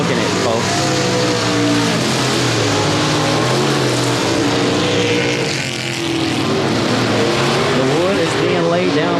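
A race car lapping the dirt oval at Timberline Speedway, its engine roaring loud and steady with a shifting pitch as it passes, under continuous commentary.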